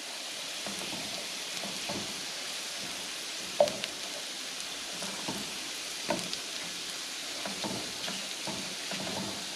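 Steak sears in a hot pan just after being flipped, a steady close sizzle and crackle with scattered pops and a few louder spatters, alone without talk.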